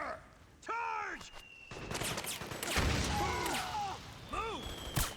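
Gunfire in a chaotic battle in Metal Gear Solid 4: Guns of the Patriots, with scattered bursts and booms running under shouted voices and a few rising electronic whistles.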